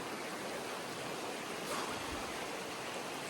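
Steady broadband rush of the river at the Calf Deep Ford on a backcountry trail, a continuous close wash of flowing water with no voices.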